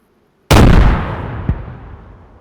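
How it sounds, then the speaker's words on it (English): A grenade blows up in the video game DayZ: a sudden loud boom with a long rolling decay, followed a second later by a smaller secondary bang as the rumble fades. "So what I'm going to do is I'm going to unpin this grenade I've got."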